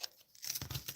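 Scissors cut through card stock for a handmade card in a quick, close snip and crisp rustle, lasting well under a second and fairly quiet.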